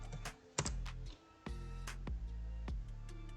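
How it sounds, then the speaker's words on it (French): Keys clack on a computer keyboard as a sudo password is typed, a few sharp close taps in uneven bursts with short pauses, in a quiet room. "On va taper le mot de passe sudo qu'on a déterminé."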